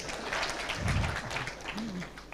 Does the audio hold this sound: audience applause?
yes